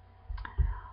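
A computer mouse is clicked a couple of times on an online chemistry homework page, giving soft, brief, close taps over a quiet room hum.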